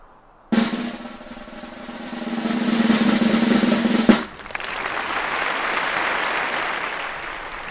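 Sudden loud applause bursts in and holds as dense steady clapping for several seconds, then cuts off sharply and leaves a softer, more diffuse wash of clapping and crowd noise.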